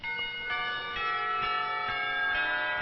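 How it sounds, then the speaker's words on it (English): School warning bells chime in the Katawa Shoujo video game, a series of evenly spaced, ringing church-like strikes, roughly two per second, sustained and resonant with no voices. "the warning bells chime through the window"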